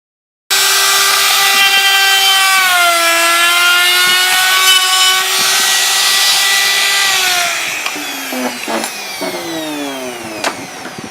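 A power router whines steadily as it rounds the edges of a homemade acrylic LED sign, a loud sustained high-pitched tone that shifts slightly in pitch, then drops and sputters with brief cutting bursts near the end.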